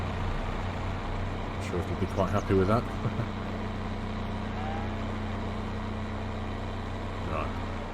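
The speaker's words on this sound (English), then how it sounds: "Our only Fent now, which has now been re-promoted to biggest tractor on the farm." A Fendt tractor engine, the biggest tractor on the farm, idles steadily with a low continuous hum while someone speaks over it.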